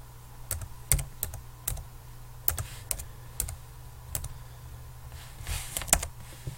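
Keystrokes on a computer keyboard as a username is typed at a login screen, a quick irregular run of clicks and taps, close and clear with no talk over them.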